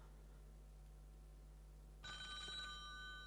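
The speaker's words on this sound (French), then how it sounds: "faites-moi sonner ce téléphone maintenant" A telephone on a French TV game show studio set starts ringing partway through, a bright, steady electronic ring that cuts in over the quiet room hum and continues to the end.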